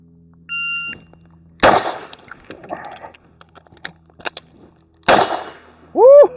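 A Chiappa Rhino 40DS revolver fires two sharp, loud shots several seconds apart, with metallic clicks and rattles of a reload in between, followed by electronic beeps and a short ringing tone.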